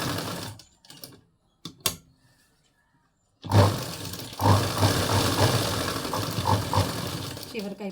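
A sewing machine stitching a fall onto a saree, steady mechanical whirring that starts after a few quiet seconds with scattered handling clicks, running continuously and fairly close.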